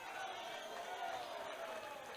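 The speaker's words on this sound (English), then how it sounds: "The DCA crowd not in agreement with the call" Basketball crowd in a school gym murmuring and calling out in protest after a charge call, a steady, dense wash of voices throughout with no single voice standing out.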